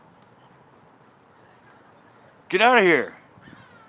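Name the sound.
seagull calling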